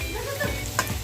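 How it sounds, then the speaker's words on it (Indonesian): Bird's eye chili, shallots, garlic, bay leaf and galangal stir-fried in a pan for spicy sambal, a soft steady sizzle with a brief scrape of stirring near the end, alone without talk. "dioseng-oseng cabai rawit, bawang merah, bawang putih, daun salam dan lengkuas"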